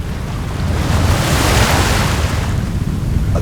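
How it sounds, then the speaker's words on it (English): A storm gust roars over the ocean in an audio drama, broad rushing wind and surf that swell after a brief lull and hold loud and steady. "A gust shook them again."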